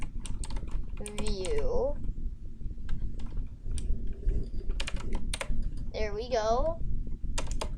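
Computer keyboard clatters with steady, rapid typing while code is written in Unity, close and continuous, with a voice speaking briefly over it.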